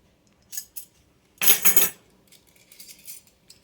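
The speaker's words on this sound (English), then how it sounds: "So we got several forks and several of the iced teaspoons" Metal forks and iced teaspoons clink and rattle as they are handled, a couple of light taps followed by a louder jangling burst, then softer scattered clinks, close by with no talking.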